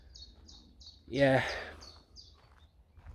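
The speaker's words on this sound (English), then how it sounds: "birds are cheeping" Small birds chirp in short repeated high bursts among woodland, fairly near and clear, with a man's brief spoken word cutting through the middle.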